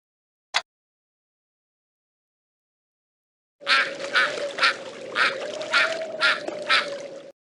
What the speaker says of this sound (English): Eider duck.